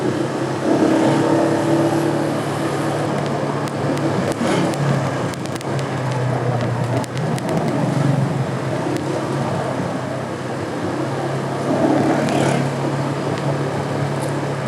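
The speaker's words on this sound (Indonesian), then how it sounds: "Macet." Dense morning traffic crawls along a road in Depok past a junior high school at drop-off time, a steady, loud mix of car and motorbike engines with occasional revving, continuous throughout with no break.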